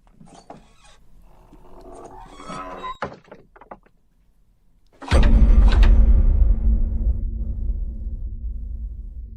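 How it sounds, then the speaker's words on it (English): Doors and windows are shut from outside: a few scattered knocks and shuffles, then a single loud, deep slam around the midpoint whose rumbling boom lingers and slowly decays, close and heavy. "Next, I'll close the doors and windows from the outside."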